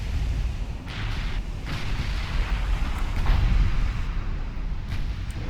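Naval guns boom repeatedly in Ultimate Admiral Dreadnoughts, deep rumbling artillery blasts at irregular intervals over a continuous low roar, loud and heavy with no voices.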